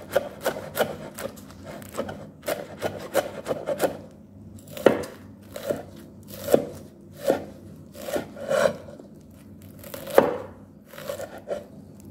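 A knife thinly slices leaves on a cutting surface for a Jaffna-style leaf dish, giving a steady run of crisp close chops and scrapes, some quick clusters and some spaced strokes, with no voices.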